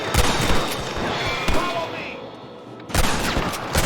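Gunfire in the Red Dead Redemption Wild West video game, several loud sharp shots in bursts with a gap of quieter background mid-way, and voices speaking over the action.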